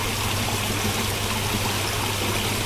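Water poured steadily into a mix with chlorine (kaporit) while a new fish pond is being sterilized, a continuous close trickling stream with no pauses.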